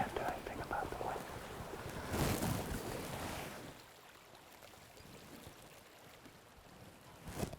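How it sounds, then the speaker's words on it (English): Gusty wind buffets a microphone outdoors in bear country, a loud rumbling roar that surges and then eases into a softer steady rush, with a brief gust returning at the end. "can't do anything about the wind"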